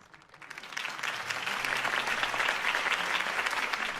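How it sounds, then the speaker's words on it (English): Applause swells quickly from a crowd in the video game Batman: The Telltale Series, many hands clapping steadily and loudly, sustained for several seconds. "could have heard that applause"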